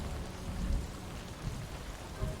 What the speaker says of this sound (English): Man, the storm is bad.